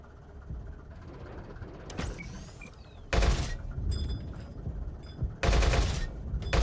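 A Wiesel 1 MK prototype's autocannon in World of Tanks fires two sharp, loud bursts of rapid shots over a rumbling engine, with clanking mechanical sounds in between.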